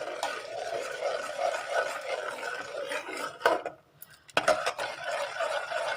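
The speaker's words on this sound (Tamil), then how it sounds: "அதை சேர்த்து நல்லா கலந்து விட்டுக்கோங்க" Milk being stirred into melted palm jaggery in a pan, with a steady run of soft scraping and clinking from a spoon against the pan, a brief pause, then more stirring.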